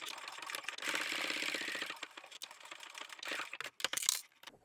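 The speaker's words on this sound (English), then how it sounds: "I'm going to add a couple of extra rows of reinforcing stitches just at this lower section here" A sewing machine runs a short burst of stitching along the lower section of a fabric bag, adding rows of reinforcing stitches, followed by a few clicks and handling noises close by.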